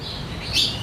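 An orange-headed thrush (anis merah) gives a short, bright whistled chirp that rises at the end, close and clear over a faint low background.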